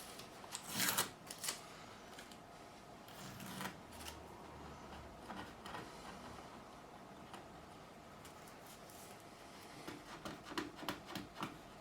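Tape being peeled off an Ibanez RG505 guitar during a fret-level job: close, quiet crackly tearing and rubbing, with a few louder rips early on and a scattered burst near the end.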